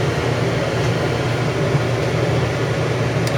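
An RV rooftop 13,500 BTU air conditioner running on high cool, giving a steady, fairly loud broadband whoosh with a low droning hum underneath, constant and unbroken with no talk.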